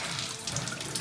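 A tap runs steadily into a sink during handwashing, a continuous close hiss of splashing water with small gurgles, loud and unbroken.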